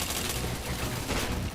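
A short, dense burst of gunfire in the video game PointBlank, heard as continuous rattling shots at a steady moderate level, with no talking.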